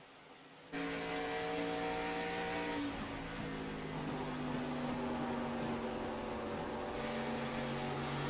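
A stock car in a Midwest Winston Cup Series racing video game drones loudly at high revs, its engine tone holding steady then shifting pitch as cars run close together, with no voices.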